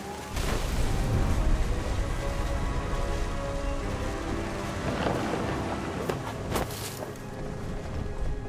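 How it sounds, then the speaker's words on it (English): A heavy storm from the game What Remains of Edith Finch, with steady loud rain pouring down and low thunder rumbling close by, a few sharper cracks near the end; no voices. "The thunder sounded much too close and full of angry power."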